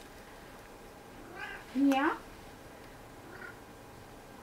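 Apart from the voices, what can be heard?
cat meowing and purring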